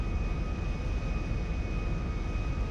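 Boeing 727 jet in the GTA 5 video game flying low over mountains, a steady, loud, continuous engine roar with a constant whine on top and no talking.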